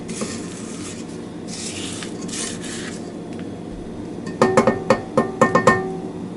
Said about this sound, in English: I'm going to do a little bit of scraping with the edges of the bowl